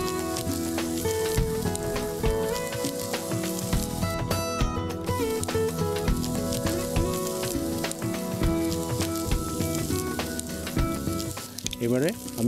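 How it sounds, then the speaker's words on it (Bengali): Chopped onion dropped into a hot pan with yogurt, a dense continuous sizzle and crackle of frying, fairly quiet, with occasional stirring clinks and no talk. "দিয়ে আমি এবারে পেঁয়াজ কুচিটা দিচ্ছি"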